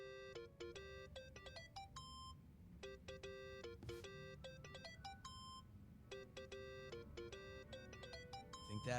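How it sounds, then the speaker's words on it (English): A mobile phone ringtone in the video game Yakuza: Like a Dragon: a bright, repeating melodic chime of quick beeping notes in several bursts, playing over a low background murmur. "Think that's your phone, man."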